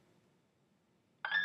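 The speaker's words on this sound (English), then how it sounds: "again, here goes my phone." A phone starts beeping suddenly after a quiet stretch, a sharp electronic tone that comes in loud and close near the end.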